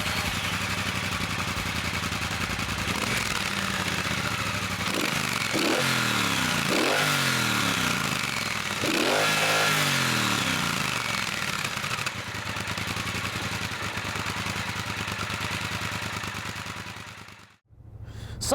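A Triumph Bobber Black motorcycle engine runs steadily at idle, rising in three quick revs before settling back. It cuts out briefly near the end.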